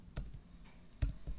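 A few quiet keystrokes tap on a computer keyboard during setup of a Pantheon desktop on Arch Linux, two or three soft clicks spaced out, close and faint with no talking.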